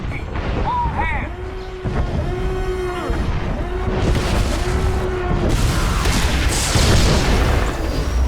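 Incoming fire striking a starship in SWTOR, heard as heavy booming impacts and rumbling blasts under a repeating wailing alarm tone, building louder toward the end, with no speech.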